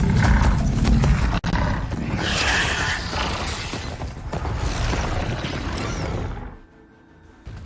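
Loud roaring and grinding of mechanical beast creatures in the game Horizon Forbidden West, dense and continuous for several seconds before dropping away to a quieter background.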